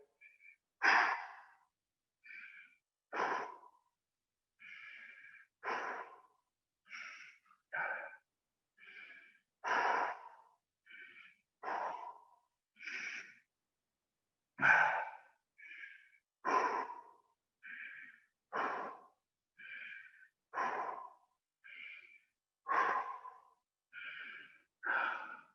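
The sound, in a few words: slow breathing during a plank workout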